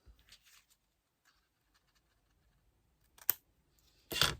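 Paper is cut with scissors for a scrapbooking craft, with a few faint snips early on and then two sharper, louder cuts near the end, close by in a quiet room.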